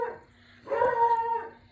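A dog lets out a short whining bark, a brief whimper followed by a louder drawn-out yelping cry, fairly close and with no talking.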